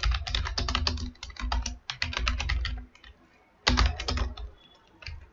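Quick bursts of clicky keystrokes on a computer keyboard while typing JavaScript code for a basic calculator, close and uneven, with short pauses between runs.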